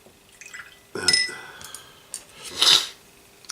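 Water poured and splashed for thinning miniature paint on a hobby bench, a short clinking pour followed by a louder splashing burst, close and alone.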